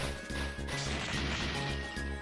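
Barrel smashing in the video game Children of Mana: sharp crashing and thwacking hits land over busy game music, several impacts in quick succession, loud and close, with no talking.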